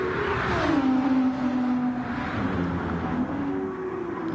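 An Audi R8 and a Porsche race car roar around the Nürburgring during the 24-hour race, with a loud, sustained engine note that shifts pitch as they drive past.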